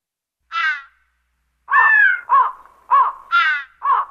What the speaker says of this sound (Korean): 그런데 기이하게도 연못 주위에 까마귀가 잔뜩 몰려 앉아 있었다